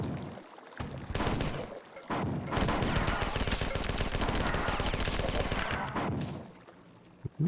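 Rapid automatic gunfire in the video game Marathon 2: Durandal, a dense burst lasting several seconds with loud repeated shots and booming impacts, preceded by shorter shots and explosions.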